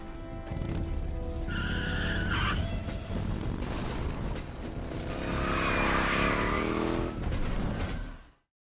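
A moped engine in Metal Gear Solid 3 drones steadily and loudly for several seconds, rising and falling in pitch amid tyre squeals and rumbling chase noise, before cutting off abruptly.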